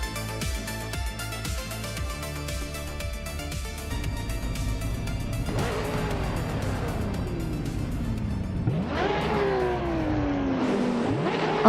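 Race cars from a racing video game roar around Batanga's circuit, a Lotus Elise GT1 among them, with layered engine drones that rise and fall and loud revving sweeps as cars accelerate and pass close by, steady throughout.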